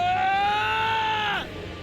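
A sustained, high, strained cry rings out in the video game The Hundred Line: Last Defense, holding steady before bending downward and cutting off, loud and close over a faint background.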